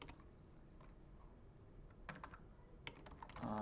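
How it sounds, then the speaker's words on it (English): Someone types messages on a computer keyboard in Slack, a steady quiet patter of key presses with a few louder clacks near the end. "I'll just type some messages here in Slack"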